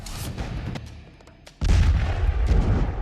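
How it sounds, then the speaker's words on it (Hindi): Stored ammunition cooking off in a fire after a strike on a weapons depot: a deep boom, a quieter lull, then a sustained heavy rumbling burst of blasts, close and loud. "हथियार में आग लगी है, इसीलिए एमुनेशन एक एक विस्फोट के साथ हवा में फटते जा रहे हैं।"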